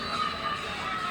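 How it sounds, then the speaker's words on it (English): A dense, steady wash of fans at a Little League baseball game, with spectators cheering on the New York team against North Carolina, heard as a continuous outdoor crowd murmur without distinct peaks. "Also a lot of fans cheering on this New York team"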